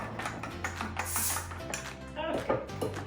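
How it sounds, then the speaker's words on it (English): A manual can opener cranks around a can lid amid clinking dishes and kitchen clatter, with a person talking nearby throughout. "I need a can opener"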